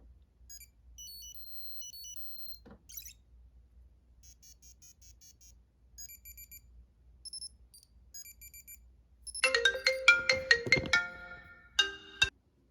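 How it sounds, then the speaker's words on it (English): Several iPod touch devices chirp out a series of short electronic notification tones, scattered soft chimes at first, then a dense, louder cluster of overlapping beeps near the end. "That's why these notifications are like showing up."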